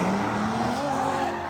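A drift car at a drifting event in Lviv slides with a loud, sustained tire squeal and rising engine whine, close and continuous for the whole moment.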